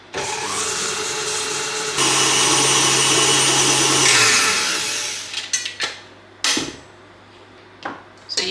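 An electric mixer creams butter and sieved caster sugar for a lemon drizzle cake, whirring steadily and loudly, shifting to a higher speed partway, then winding down into short bursts and pauses.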